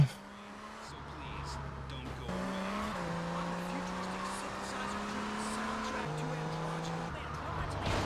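Infernus sports car in GTA Vice City Stories on PS2, its engine drone holding steady tones that step up and down with gear shifts, continuous and fairly loud with faint tire noise; a voice talks briefly over the engine.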